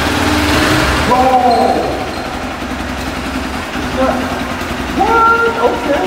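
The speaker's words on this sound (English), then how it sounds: "Sounds like a KTM." A KTM motorcycle with ABS and a 21-inch front wheel runs with a steady engine note, rising in brief revs, while a rider and others talk and exclaim over it.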